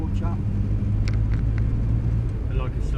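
Morris Minor driving on a road, a steady low engine and road rumble running continuously, close and fairly loud, with a voice talking over it.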